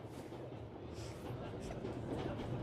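Steady low rumble of a train rolling along in a video game, with faint rhythmic clatter under a murmur of voices, continuous and fairly quiet throughout.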